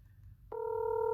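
A single phone dial tone starts abruptly partway through and holds steady, a clear two-pitch electronic hum heard alone after a brief low murmur of background noise.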